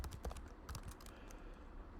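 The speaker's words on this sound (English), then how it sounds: "I'm typing poorly today." Computer keyboard keys clack in quick, uneven bursts during a programming lecture, close and fairly quiet, with no talking over them.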